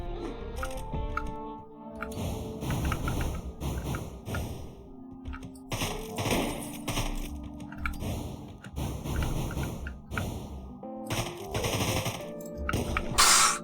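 Rapid bursts of gunfire from the video game Deadbolt, in repeated clusters with short pauses between volleys, loud and close, with no talking.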